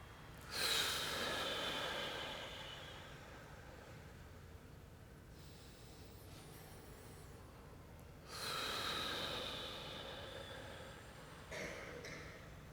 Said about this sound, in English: And breathe in through the nose. And exhale like you're blowing out candles.